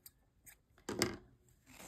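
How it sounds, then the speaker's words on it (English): Scissors cut through crochet yarn, a few quiet snips close by with one louder crisp cut, and no talking. "Cut our yarn"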